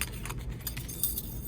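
Metal removal keys for a car stereo in an Audi A4 B7 jangle and clink in a quick irregular cluster of bright, close rattles, with no speech.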